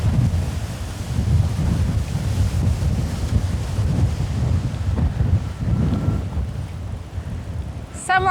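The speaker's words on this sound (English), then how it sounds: "This wind is relentless, huh?" Strong summer wind gusts outdoors in Amsterdam, buffeting the microphone with a continuous heavy rumble and roar that swells and eases, with faint voices underneath.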